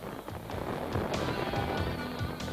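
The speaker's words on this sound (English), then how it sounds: "So, fireworks off the field." Fireworks crackle and pop in rapid bursts over a stadium crowd before a 1994 rugby league match, Sheffield Eagles against Australia, with a dense, continuous roar of noise beneath.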